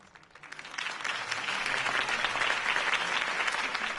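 Steady crowd applause in a political campaign speech scene from the Telltale Batman video game, swelling from quiet to a sustained, dense roar of clapping that holds for several seconds without any voices.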